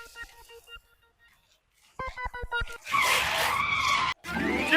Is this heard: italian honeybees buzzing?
no